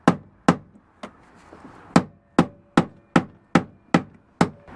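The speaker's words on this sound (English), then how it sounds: "he's hammering it in instead of unscrewing it out" Hammer striking a screw, around a dozen sharp, close knocks at a steady, roughly half-second rhythm, each ringing out briefly before the next blow.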